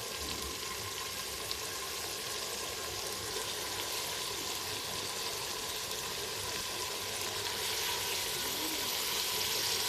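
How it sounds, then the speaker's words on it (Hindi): Fresh spinach goes into potatoes frying in a pan, giving a steady, even sizzle and hiss of hot oil that carries on alone for the whole stretch at a moderate level. "अभी इसमें मैं ये पालक ऐड करूँगी।"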